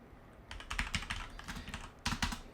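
Quick bursts of typing on a computer keyboard, clicking keys up close after a short quiet start, with a brief pause before a final flurry.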